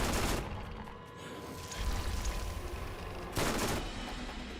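Sustained gunfire from the Tsunami weapon in a first-person shooter video game, heavy broadband bursts at the start and again near the end with a steady rumble of firing and effects between them, no talking.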